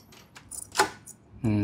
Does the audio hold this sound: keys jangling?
yes